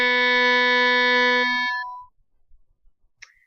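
A single violin note, high second finger on the G string, bowed and held steadily for about two seconds, then stopping, followed by quiet room noise and a faint click.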